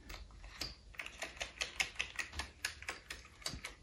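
Fingers tap quickly and lightly on the keys of an Amiga 600 computer keyboard, making a steady run of crisp, close clicks with no voices.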